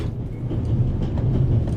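A train in the video game The Raven rolls steadily along, a continuous low rumble with faint rhythmic clatter of carriages, close and even throughout with no voices.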